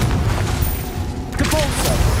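Booming blasts from an explosive spell cast in a Hogwarts Legacy fight, landing as heavy thuds in a dense, chaotic mix of combat noise.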